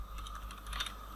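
Keys clatter in a quick, steady run as text is typed on a computer keyboard during a web coding session, a close, fairly quiet rattle with no voices.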